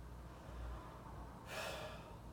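Mouth breathing during a breathing exercise: quiet stillness, then one clear airy exhale or inhale through the mouth, close and alone.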